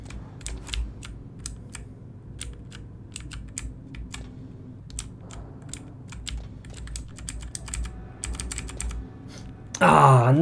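Rapid, uneven clicks of computer keyboard keys tapping close by during a glitch-hunting gameplay session, a steady low hum beneath and a louder burst of noise near the end.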